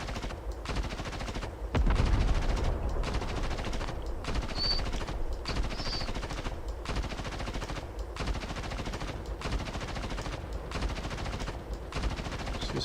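A coaxial machine gun fires in a video game in long sustained bursts of rapid gunfire, loud and continuous, with a brief heavier blast near the start and no talk.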